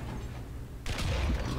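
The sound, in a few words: tank cannon shot, War Thunder video game (M2A4 light tank)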